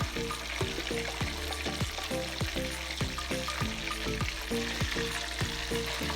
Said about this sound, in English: I'm gonna take out all the pieces from the oil.